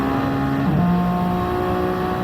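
Hypercars passing on the straight at Fuji in a WEC racing game, a steady engine drone with a clear pitch drop as one car sweeps by close, no talk.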